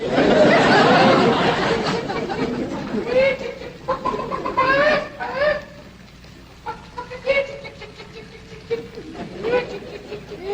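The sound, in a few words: chickens clucking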